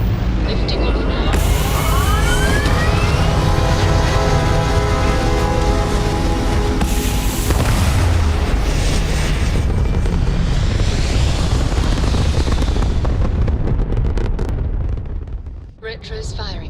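Spaceship engines roaring into liftoff in the video game Starfield, a loud sustained rumbling blast with rising whines and swells that builds and then fades near the end.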